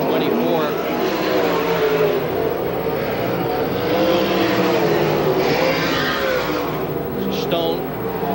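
Sprint cars racing around the Manzanita Speedway oval in the 1992 Slick 50 Sprint Car World Series, a loud continuous engine roar with rising and falling pitch as cars work the turns, with a commentator talking over it.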